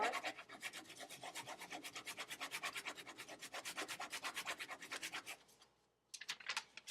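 Pencil or fingers rubbing back and forth across the back of a paper drawing to transfer an outline, a fast steady scratchy rhythm of dozens of close strokes that pauses briefly and then resumes.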